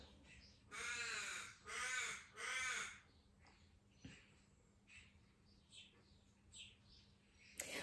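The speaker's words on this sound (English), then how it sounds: "sorry, my crows are loud again today." Crows cawing outside, three loud harsh caws in quick succession, then fainter, more distant calls scattered afterward with a quiet room tone beneath.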